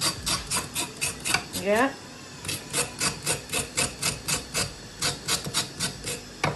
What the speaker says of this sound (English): I'm gonna just do my carrots like so. I'm gonna scrape them